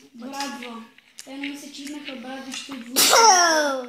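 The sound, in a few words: sneeze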